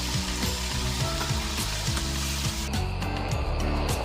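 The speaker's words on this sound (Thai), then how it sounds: "ผัดด้วยไฟแรงๆนะครับใช้ไฟแรง" Stir-frying on high heat with basil leaves and fish sauce in a pan, a steady loud sizzle with rhythmic scraping and stirring strokes throughout, no voices.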